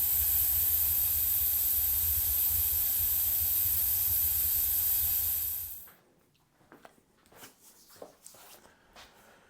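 A pressure cooker cooking grain for mushroom spawn vents steam in a loud, steady roaring hiss that cuts off after about six seconds, leaving quiet scattered knocks and clatter.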